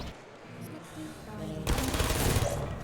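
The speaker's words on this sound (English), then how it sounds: "you just get turrets shooting at you everywhere" Automated turrets in Portal firing a rapid stream of shots that grows louder and denser partway through, with game sounds and a voice underneath.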